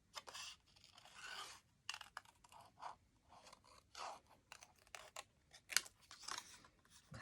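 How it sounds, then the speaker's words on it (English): Scissors snip through paper, cutting pieces apart, in a quick series of crisp, close cuts and rustles separated by short pauses, quiet and with no voices. "Okay, so I'm going to cut these into pieces."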